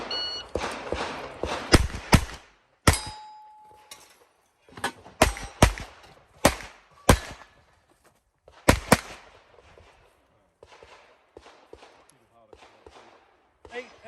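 Repeated sharp gunshots ring out on a shooting-competition stage, fired in fast clusters with short pauses between strings, loud and close, with a faint electronic beep near the start.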